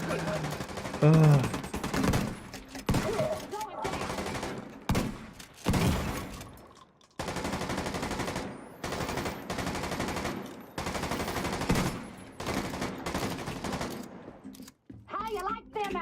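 Shotgun blasts and automatic gunfire in the video game Tom Clancy's The Division 2, loud bursts broken by short pauses, with a player grunting over the shooting.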